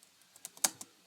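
Sparse, crisp keystrokes on a computer keyboard while Java code is entered, a handful of separate clicks with one louder tap near the middle and uneven pauses between them, quiet and close.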